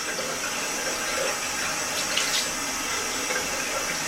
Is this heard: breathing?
no